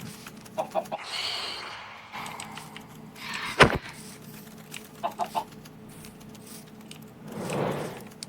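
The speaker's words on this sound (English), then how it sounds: "Oh, and chicken." Chickens in the video game Minecraft, a few soft clucks scattered among game sounds, including a sharp clack and brief rustling, moderately close with no talking.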